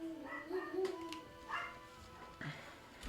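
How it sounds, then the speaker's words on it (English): Pet dogs bark, yip and whimper indoors, a few scattered, fairly faint calls heard at a distance with little else around them. "I'm sorry, my dogs were acting crazy for no reason."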